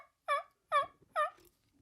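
A hunter imitates a turkey hen yelp with his natural voice, making three close, loud, evenly spaced nasal yelps with short silent gaps between them.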